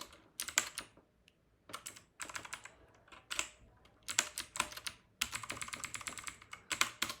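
Someone types code into a computer keyboard in quick bursts of clicky keystrokes separated by short pauses, close and crisp, with no talking.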